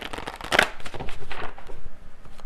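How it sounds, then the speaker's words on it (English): A deck of tarot cards is shuffled close by, with crisp riffling and papery flicks in quick bursts, the loudest burst near the start followed by softer, rhythmic card slaps. "I'm going to get one final card here from this deck, and then I'm going to pull the message cards"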